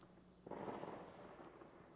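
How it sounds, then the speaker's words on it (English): A burst of fireworks booms and crackles in the distance, a soft rumbling swell rising suddenly and fading slowly over a faint background. "Adds a somber note to the fireworks"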